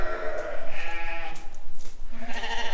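Sheep bleat in a barn as ewes and lambs are sorted apart, several overlapping calls rising and falling close by, with a steady background of other animals.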